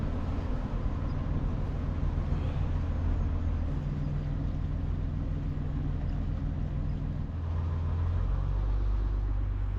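Boat engine labouring at raised revs against a strong current on a swollen River Lea after heavy rain, a steady low droning rumble running continuously and fairly loud throughout.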